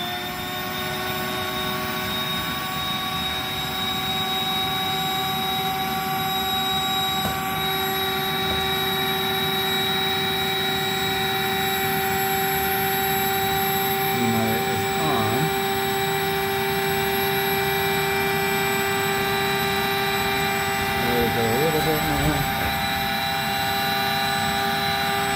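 An electric pump runs steadily, inflating an AlwayzAire air mattress, with a constant loud motor hum and whine throughout and brief faint rustles midway.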